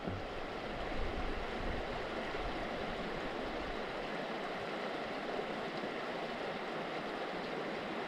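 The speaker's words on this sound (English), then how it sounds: "where's this creek coming from?" Creek water running steadily along a mountain route toward Fording River Pass, a constant broadband rush with no breaks, close and fairly loud throughout.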